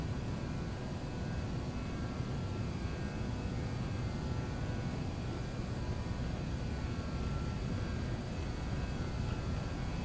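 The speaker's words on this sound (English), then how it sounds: "Full throttle, and there we go. Hopefully we will have a nice takeoff and we don't crash" Engines of a BAe146-300 jet airliner roaring at full throttle on the takeoff roll in MSFS2020, a loud unbroken broadband roar with steady whining tones, no voices.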